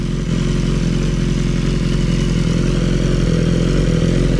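A BMW S1000RR with a Stage 4 tune, around 230 hp, idles at a standstill, giving a loud, constant, lumpy engine rumble with a slightly uneven, aggressive pulse. It is heard close up with no talking.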